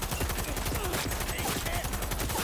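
Rapid, continuous automatic gunfire in Cyberpunk 2077 during a heist at Kompeki Plaza, a dense loud barrage that fills the whole moment without pause.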